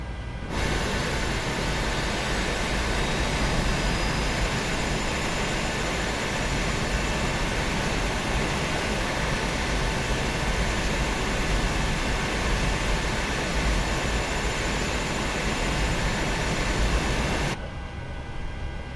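Jet engines of a PMDG 737-800 freighter start up in Microsoft Flight Simulator, a steady broadband whine and rushing roar that sustains evenly at high level, then cuts off abruptly at the end.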